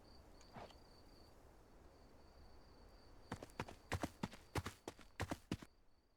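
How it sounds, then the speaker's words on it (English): Footsteps from the video game Arcadian Atlas: a quick run of sharp, loud clacking steps over about three seconds, preceded by a single softer knock, with a faint steady high insect-like tone running throughout. "Loud-ass footsteps"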